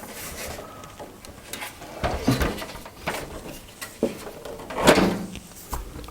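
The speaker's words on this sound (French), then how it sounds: "On ouvre la porte, on soulève la porte" Plastic and metal clunks and scrapes as the side door of a Corsair Carbide Air 740 PC case is opened and lifted off, several distinct knocks and rattles spread across the handling, close and moderately loud.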